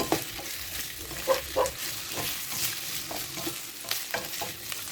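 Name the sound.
sautéing potatoes and carrots in oil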